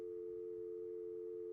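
A steady, unbroken telephone tone in the Nancy Drew Senior Detective: White Wolf of Icicle Creek game, playing alone and at a constant level from start to finish.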